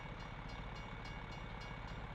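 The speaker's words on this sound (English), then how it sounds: "No, we're not going that way, so we won't see the train." A train rumbles past in American Truck Simulator with a sound mod, a steady low rolling drone with faint rhythmic clatter, moderately distant and without voices.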